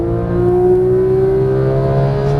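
A Porsche 911 GT3 (991) engine pulls hard after an upshift, its loud steady tone rising smoothly as the car accelerates on a racetrack, with no speech.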